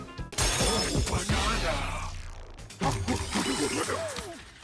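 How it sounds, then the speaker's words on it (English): Donkey Kong Bananza's ape-mode rampage brings loud, repeated shattering and crashing as walls and terrain break apart in bursts, a short pause splitting two dense waves of debris and impacts. "It is a delight to smash through the environment going ape mode"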